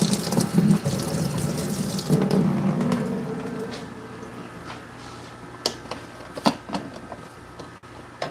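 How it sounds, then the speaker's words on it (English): Tap water runs into a sink while something is rinsed, a steady close rushing splash that eases off partway and then gives way to scattered clinks and handling knocks. "Give this a rinse."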